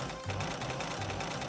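A sewing machine in a video game runs in a fast, even mechanical chatter of repeated stitching beats, close and steady throughout with no voices.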